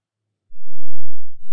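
A simple FM synthesizer built in Cmajor, modelled on the simpleFM patch in Max/MSP, sounds a single deep, bass-heavy tone lasting about a second, loud and close, with a faint click near the end.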